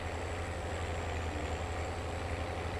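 A tractor in Farming Simulator 25, fitted with a physics mod, rumbles steadily at about 20 kph across a field, its heavy low engine drone continuous and close with no speech over it.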